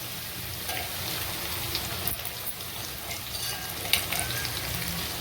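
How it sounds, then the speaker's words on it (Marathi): Green chilli and garlic paste sizzles and crackles in hot oil in a home kitchen pan, a steady close frying hiss with small pops throughout. "थोडंसं याला तळून घेऊ, हिरवी मिरची लसणाचा कच्चापणा"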